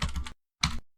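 Two short bursts of keyboard typing, one after another, with a brief pause between them, entering an email address into an Android app sign-up form; close and crisp, no talking.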